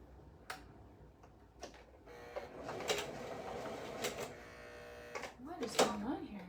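A home sewing machine badly in need of oiling runs in short, faint bursts of rapid mechanical ticking and whirring, with small pauses between runs and no talking.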